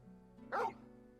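Torgal, the hound in Final Fantasy 16, lets out a single short, close bark over a low steady game background hum.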